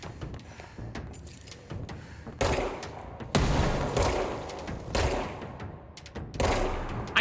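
Rapid bursts of gunfire in the video game Control, a series of loud, sharp volleys and repeated shots spread irregularly across the scene, with no speech.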